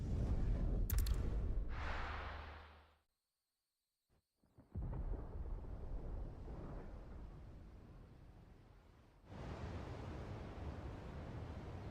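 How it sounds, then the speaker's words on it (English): Thunder in the video game Final Fantasy 16: loud, broad rumbling at first, a sudden drop to near silence, then a steady, heavy roll that swells again toward the end. "Sounds like thunder."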